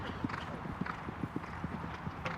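Show-jumping horse's hooves at Hickstead, a young horse on the arena surface, land in a quick run of muffled thuds under steady crowd murmur and commentary.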